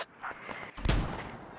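Mortar rounds fired and exploding in a military shooter, a sharp crack followed by a heavier, booming low thud that rolls off over a second and a half.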